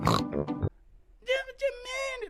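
A voice imitates a pig's oink in a cartoon Peppa Pig style: a few short nasal, pitched grunts, close and fairly loud, following a burst of speech and a brief pause.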